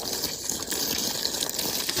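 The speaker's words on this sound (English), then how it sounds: "I'm not applying anything, I'm just pouring water on it. With cold water." Cold water poured steadily over an injured horse's leg, a continuous broadband gushing splash at moderate level with no talk.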